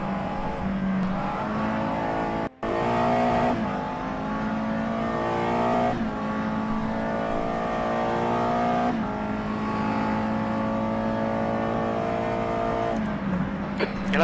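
A USF2000 open-wheel race car engine in a racing video game on the Neva Ring circuit, held at steady high revs with slight pitch shifts, droning continuously and loudly.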